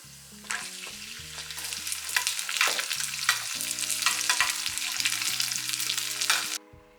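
Cashews sizzle in hot ghee for a carrot and sago payasam, a steady close-up frying hiss with the scrape of stirring running throughout before it cuts off abruptly near the end.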